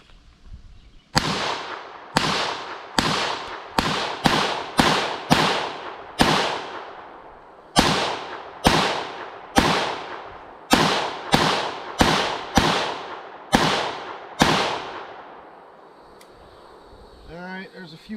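Belgian FN PS90 bullpup rifle firing at an outdoor range: about eighteen sharp, loud single shots in an uneven rhythm, each trailing a short echo, followed by a quieter stretch at the end.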